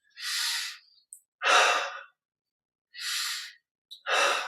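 Slow, deliberate breaths during a guided muscle-relaxation exercise: two cycles of an airy inhale followed by a longer exhale, close and clear with silent pauses between, and no talking.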